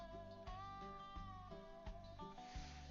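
A house cat meows for attention indoors, a few drawn-out tonal cries at moderate distance, layered over faint background music with short thumps between them.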